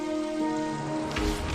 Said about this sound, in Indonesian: Ini hanya hujan biasa seperti hujan-hujan sebelumnya.